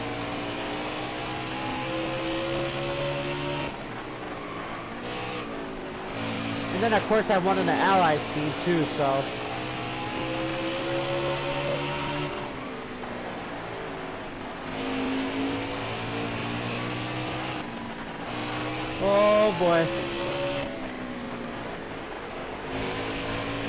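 Race car engine in NASCAR Heat 4 on the Bristol track, a droning whine that rises in revving bursts, heard under someone talking.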